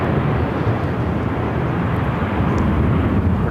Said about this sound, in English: Up next, American Airlines 2782 headed to Mazatlan on an A319.